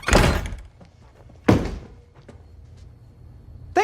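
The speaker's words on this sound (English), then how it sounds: "Shut the front door." A front door is shut in an action movie scene, with heavy wooden thunks and slams landing close and loud, one at the start, another midway and a third at the end, separated by quieter knocks.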